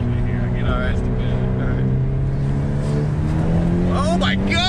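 Engine of a Hyundai Elantra N revving up to around 5,000 RPM, a loud steady drone rising gradually in pitch, with people talking over it inside the car.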